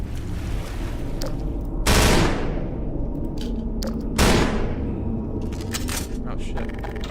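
SMG gunfire in the video game Map Labs: Mega Mania comes as two loud, sharp bursts a couple of seconds apart over a constant rushing background.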